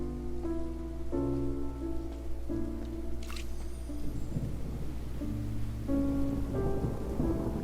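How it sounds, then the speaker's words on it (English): Video game rain hisses softly under a looping melodic music score, and a thunderclap rumbles near the middle; the storm sits faint behind the tune, with no speech. "It's raining! Oh no, Paimon forgot to bring an umbrella!"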